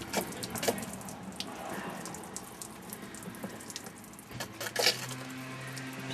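Water gushing and splashing from a pool pump valve being opened during winterization, a steady running flow with brief spurts and hissing bursts, close by, no talking.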